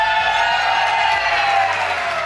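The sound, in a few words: live esports audience cheering for Cloud9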